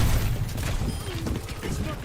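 Rapid bursts of gunfire in the game Overwatch crackle and thump in quick succession, loud and dense, with a voice talking over the shooting.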